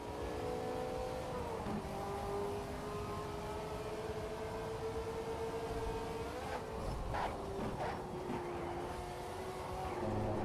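A car engine revs hard in the racing game Shift 2 Unleashed, a steady loud drone with rising and falling pitch and sharp gear-shift blips near the end, with no talk.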